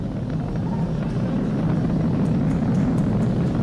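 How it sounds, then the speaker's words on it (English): Falcon 9 rocket carrying Crew Dragon roaring through the supersonic phase of its launch, a steady, dense low rumble that fills the whole stretch without a break. "Vehicle is supersonic. We've exceeded Mach 1 on the Falcon 9."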